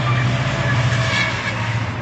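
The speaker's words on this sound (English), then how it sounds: "I picked a spot with the train" A long train rolls past close by, a loud, steady rumble with constant rail noise and no break throughout, with no talking over it.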